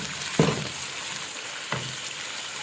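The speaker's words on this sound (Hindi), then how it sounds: "माशाल्लाह गोश्त हमारा बड़े अच्छे तरीके से फ्राई हो चुका है।" Beef frying in a karahi, a steady close sizzle with two brief scraping stirs breaking through the hiss, no voices.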